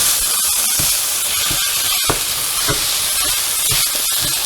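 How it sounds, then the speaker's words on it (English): Turkey breast and onion frying in a pan, a steady close sizzle with small crackles and pops running throughout, no voices. "I'm going to add in the pound of turkey breast."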